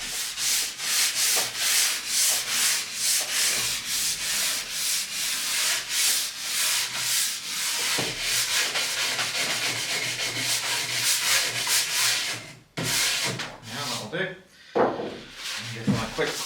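Old wax being scraped and rubbed off skis in quick repeated strokes, a steady rasping, brushing rhythm close up and fairly loud, with a brief pause and a few sharper scrapes near the end.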